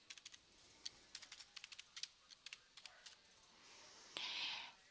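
Typing on a computer keyboard while entering a customer's address: quiet, irregular key clicks in short runs, ending with a brief, louder burst of rustling.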